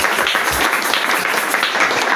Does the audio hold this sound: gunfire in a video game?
no